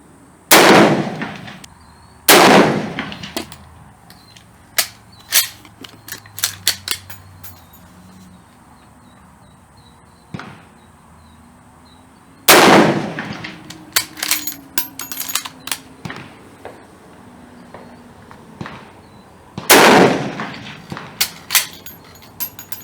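Loud, sharp gunshots from a French Berthier carbine in 8mm Lebel ring out one at a time at uneven intervals, each with a short echoing tail, broken up by the metallic clicks and clacks of the bolt being worked between shots.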